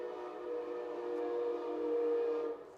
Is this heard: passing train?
yes